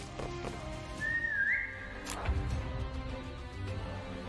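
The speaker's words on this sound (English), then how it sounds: "Wave 3 with this stupid whistle bullcrap" A single rising whistle from the video game Limbus Company, faint and brief over low game background noise, with no voices.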